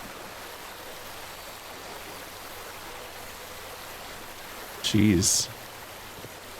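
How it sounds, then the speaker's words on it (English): A river flows through a canyon in the video game Call of the Sea as a steady, even rush of water, broken once by a brief spoken exclamation. "The river cuts through that canyon."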